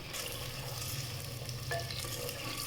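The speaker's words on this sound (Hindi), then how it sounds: "ऑयल अच्छे से गर्म हो गया तो मैंने रख दिए टिंडे।" Tinda (apple gourd) frying in hot oil in a pot, a steady close sizzle with occasional faint clinks, no voices.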